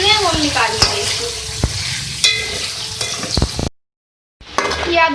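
Mutton karahi with tomatoes sizzling and frying in a pan, a steady crackle with repeated sharp stirring scrapes and knocks, cut by a brief silent gap before the sizzle resumes.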